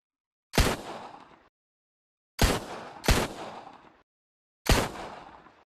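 Four loud, isolated .50 caliber rifle shots in the VR game Gun World VR, each a sharp crack with a decaying echo, separated by silent pauses and with two fired close together.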